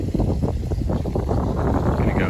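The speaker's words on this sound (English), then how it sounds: "just turned the engine on to warm up and about to drop" Sailboat engine idling to warm up after pulling into Deltaville, a low steady rumble mixed with wind buffeting the microphone, loud and close with no talk over it.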